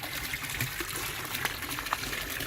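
Water in a koi fish pond bubbles and trickles softly and continuously after the fish have been fed, with faint splashes and no voices.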